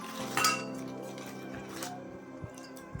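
Steel utensils and plates bought for a Dhanteras shopping haul clink and rattle as they are handled, close and moderately quiet, with a few sharp metallic rings and scattered small taps.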